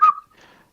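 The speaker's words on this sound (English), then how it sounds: "It's just a whistle." A person whistles a short note that slides downward, loud and close, then a fainter breathy whistle follows.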